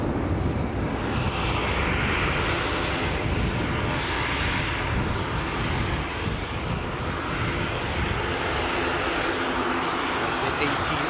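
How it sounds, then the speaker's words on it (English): A Ryanair Boeing 737 airliner arriving at Newcastle airport makes a loud, steady broadband roar that holds throughout without fading. "There, of course, is the Ryanair Boeing 737 inbound from Chania."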